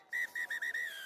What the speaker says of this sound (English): And that is the final whistle.